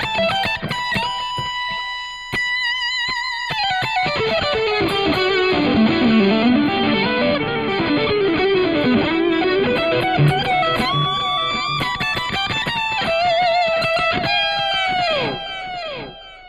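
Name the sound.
electric guitar through delay pedal effect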